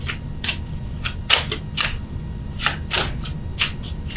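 Tarot cards being shuffled and riffled by hand, a run of quick crisp flicks and slaps repeating in uneven bursts, close and fairly loud with no talk.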